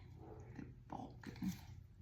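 Dogs outdoors make a few short, muffled barks and yips, faint and distant, in a quiet room.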